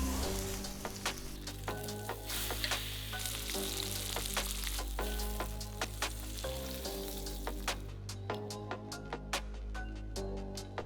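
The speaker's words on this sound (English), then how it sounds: "all that's left to do is give it a quick sear" Sous vide T-bone steak searing in a hot pan, a loud continuous sizzle with scattered sharp pops and spatters throughout, no talking.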